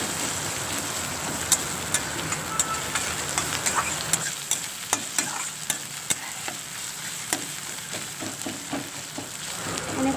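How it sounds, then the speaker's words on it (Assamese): Chopped onions and green chillies fry and sizzle steadily in a pan while being stirred, with sharp spatula scrapes and taps recurring every half second or so, close and alone with no talk. "মই পিঁয়াজখিনি সৰু সৰুকৈ কাটি ফ্ৰাই কৰি আছোঁ"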